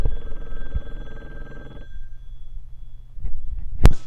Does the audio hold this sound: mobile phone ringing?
yes